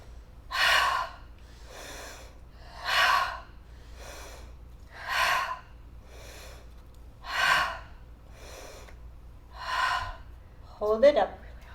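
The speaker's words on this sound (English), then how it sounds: "If you like, you can bring fire breath in," Forceful rhythmic yoga fire breathing, about ten strong breaths roughly a second apart, alternating heavier and lighter huffs, close and clear, ending with a brief voiced sound.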